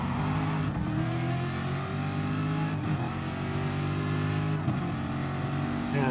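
GR3 race cars roar around Monza in a racing video game, several engines droning and revving together with pitch rising and dropping through gear changes, a loud continuous pack of cars with brief dips between shifts.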